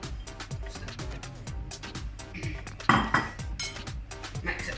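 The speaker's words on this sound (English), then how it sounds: "we want to add the parmesan cheese into the breadcrumbs. Okay, all in there, take a mix." Parmesan cheese being stirred into breadcrumbs in a bowl, giving steady close scraping and clinking of utensil against the bowl in quick repeated strokes, with a few louder knocks partway through.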